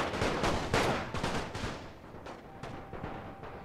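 Massed infantry rifle fire in The Great War 6.0, a dense crackling fusillade of overlapping shots that is loud at first and thins into scattered reports.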